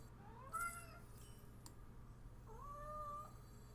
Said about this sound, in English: My cat is currently meowing at me.